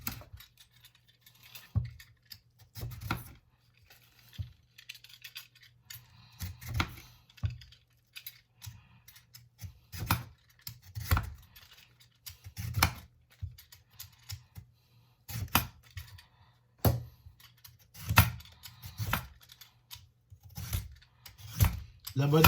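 Labanos (white radish) being cut and peeled on a board, with a steady series of short knife taps and scrapes at an irregular rhythm, close and moderately loud, under a low steady hum.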